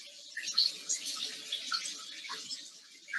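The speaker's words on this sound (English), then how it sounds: "Yes, you turned on the shower and you got your towel." A home shower runs steadily after being switched on, a soft continuous hiss of spraying water with small splashy flickers, fairly quiet and heard alone.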